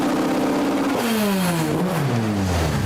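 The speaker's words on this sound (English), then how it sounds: "His friends wearing red and white, his favorite colors, as they revved their engines one last time." Engines rev hard in a loud, close burst at a funeral gathering, the pitch climbing and then sliding down as the throttle falls away before cutting off abruptly.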